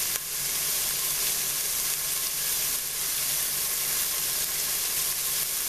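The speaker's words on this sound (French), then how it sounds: "Donc là, j'ai mis les oignons. Ils commencent à être un peu transparents." Onions fry in a pan with a constant bright sizzle, an even hissing crackle close by that holds steady throughout without talk.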